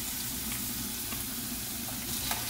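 Chicken breast frying in a pan with garlic and onion, a steady dense sizzle that holds at an even level throughout, with faint stirring scrapes and no talking.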